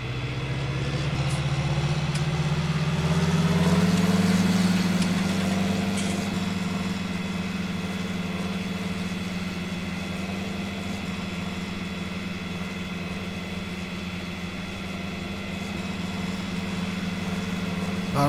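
Fendt 500 tractor with about 195 horsepower in a farming simulator game, its engine droning at a steady low idle throughout, swelling slightly early on before settling into a constant rumble with no talk.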